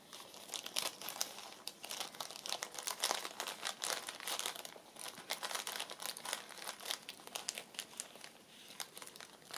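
A small bag of punched-out paper stars is handled near the mic, making steady, close crinkling and rustling of plastic and paper with frequent small crackles and no speech.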